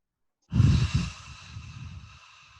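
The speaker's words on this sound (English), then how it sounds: "you start by making a whisper sound on your exhale, like you're saying, like you're trying to fog a mirror" An Ujjayi yoga exhale, a soft throaty whisper like fogging a mirror, starts abruptly with a breathy burst and trails off as a steady airy hiss, close and fairly loud with no talking.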